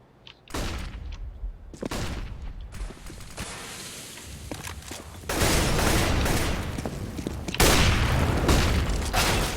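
Rapid pistol gunfire and mechanical clatter from Counter-Strike on the de_dust map, sharp shots in quick succession building to dense, loud bursts with little talk.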